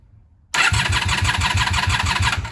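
A third-generation Honda Magna VF750C motorcycle engine, running on the reserve fuel setting, catches abruptly after a moment of quiet and settles into a loud, close, pulsing idle with a steady rhythmic beat.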